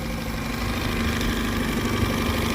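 2013 Tohatsu 8hp outboard engine idling at a steady, even hum with a faint knocking pulse, moderately close and unbroken, no voices over it.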